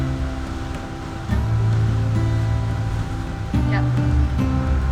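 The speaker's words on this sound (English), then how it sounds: "another beautiful day sailing around Greece" Waves and wind rush steadily around a sailing boat off Greece, a constant broad wash with louder surges partway through and near the end.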